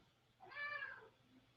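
A pet cat gives a single drawn-out meow at close range, indoors against a quiet background, with no talking.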